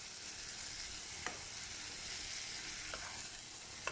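Tomatoes sizzle steadily in a hot pan for a home-style chickpea curry, a constant frying hiss with a couple of faint clicks of stirring, no talking.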